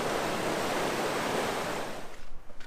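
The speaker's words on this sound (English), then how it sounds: "That water right there is moving really fast." Fast-moving Colorado River water at the bottom of the Grand Canyon, a loud, steady rushing roar heard up close that eases slightly near the end.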